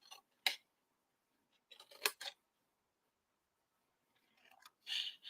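Scissors snipping through paper for a Post-it note cube, a few sharp crisp cuts with quiet gaps between, close and clear, ending in a slightly longer rasping cut.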